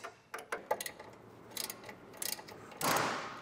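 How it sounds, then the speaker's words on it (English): An 18mm socket and wrench work a bolt loose on a 2024 Chevrolet frame rail, giving scattered metallic clicks and ratchet ticks with a louder scraping burst near the end. "So we'll take an 18mm socket and wrench"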